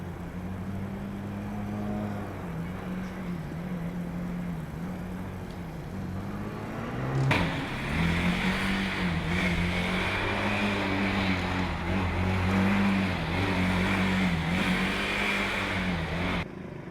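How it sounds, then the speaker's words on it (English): Formula Student race car engine idling steadily at a skidpad, a close, continuous buzzing drone with a brief rev blip partway through, then holding a slightly higher, rough idle. "Chennai now have their engine started"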